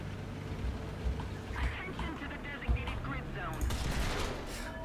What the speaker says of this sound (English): Why is that guy shooting at me now?